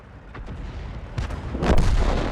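A Churchill tank's main gun fires in a World of Tanks battle, with two heavy booms in quick succession near the end, the second louder and rumbling out over a low background.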